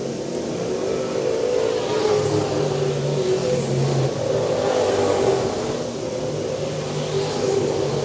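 Race car engines at Swainsboro Raceway in Georgia, including the number 28 car driven by Donnie Bazemore Jr. down the back straightaway, a steady loud drone of revving engines that swells and fades slightly as the cars pass, with no talk.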